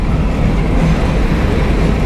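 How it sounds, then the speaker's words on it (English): An internal combustion engine runs close by with a steady, loud, continuous rumble and no change in pace. "Your beautiful internal combustion engine."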